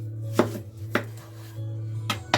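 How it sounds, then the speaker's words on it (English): A knife cuts peeled yellow onions in half on a cutting board in a cabin kitchen, sharp single chops landing every half second or so, close and crisp with no talk. "I just took a bunch of yellow or brown onions, peeled them, and I'm cutting them in half"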